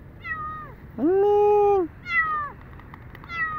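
A cat left in a cardboard box by the Muzon area in Malabon meows loudly and close, giving several plaintive cries of varying length, the middle one long and drawn out, while a person briefly speaks to it.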